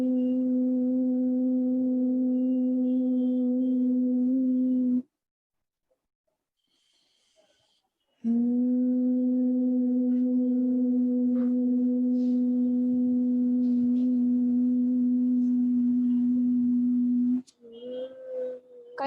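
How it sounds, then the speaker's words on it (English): Bhramari yoga breathing, a steady, close nasal hum like a black bee held for several seconds, a pause for a breath, then another long, even hum. "steady humming sound, such as black bee"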